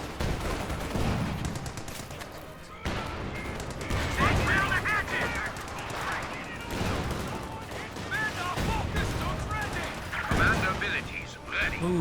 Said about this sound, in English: high explosive rounds from the Sherman tank doing some good hits there